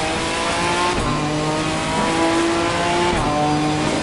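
A Ginetta GT4 race car in Assetto Corsa Competizione accelerating on the power out of a corner, a loud steady engine drone with rising harmonics and a brief shift midway.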